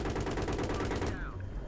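Rapid automatic gunfire in the video game Battlefield 3 rattles continuously and loudly, a dense burst of shots that stops abruptly near the end.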